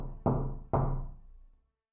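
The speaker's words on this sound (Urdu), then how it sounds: "مجھے کسی دروازے پر دستک کی آواز آئی" Two heavy knocks on a door, about half a second apart, each a sharp thud with a booming tail that fades slowly into silence, for a horror story.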